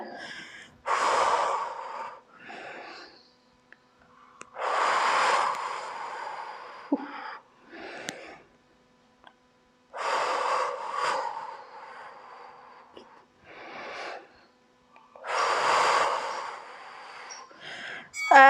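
Heavy, effortful breaths during a home HIIT workout, coming in repeated bursts of loud huffing and gasping exhalations with short quiet gaps between them, close to the microphone and without talk.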